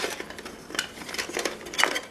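A backpacking cooking pot set is handled, with several light metallic clinks, taps and scrapes of nested cookware knocking together close by over a couple of seconds, with no talking.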